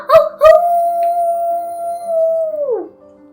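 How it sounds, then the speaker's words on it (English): A single long wolf howl, loud and close, holds a steady pitch before sliding down at the end. Two short yips come just before it. "But do you know how wolves howl? This is the real howl"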